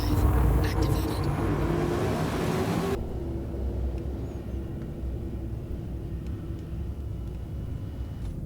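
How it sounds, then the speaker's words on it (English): In the Star Citizen game, a 100-Series ship's quantum drive engages with a loud rushing roar that cuts off sharply, leaving a steady lower engine hum. "Quantum drive activated."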